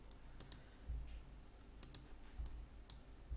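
Faint computer mouse clicks come in quick pairs of double-clicks, three of them spread over a few seconds, close and crisp against a quiet room hum with soft low thumps between them.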